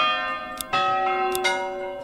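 A medieval church bell in a city-building game tolls in bright ringing strikes, with about three clear hits whose long metallic hum lingers and overlaps, moderately loud with no speech.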